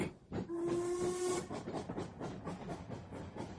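A steam boat train gives a sustained whistle blast over a continuous hiss of steam, followed by the rumble and hiss of the train carrying on at moderate distance.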